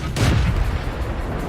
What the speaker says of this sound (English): this tank fires incredibly fast